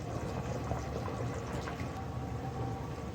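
Oil poured into a pot of degi gosht masala as it cooks, giving a steady liquid bubbling and sizzling wash that holds evenly throughout without any voices.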